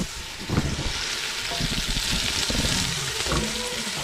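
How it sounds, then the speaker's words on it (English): Fried rice sizzling in a hot pan as a cook works it quickly, loud steady frying hiss with clattering stirring and scraping, up close. "The boss man is doing the fried rice."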